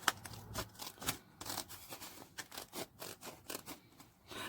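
Scissors snip through paper during an origami and mark-making craft session, a rapid run of short crisp cuts and scrapes, close and clear with no talking.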